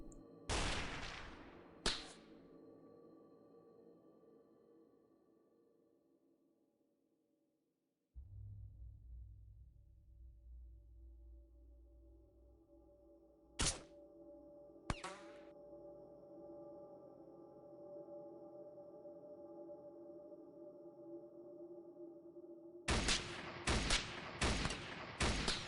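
Sparse gunshots from weapons in X-Com Files: a couple of sharp cracks early, two isolated shots mid-way, then a quick cluster of shots near the end over a low humming background.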